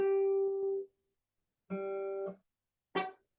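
A guitar G string rings out three times, including a note fretted at the octave (392 Hz): two sustained plucked notes and a final short one, clean and close with silence between.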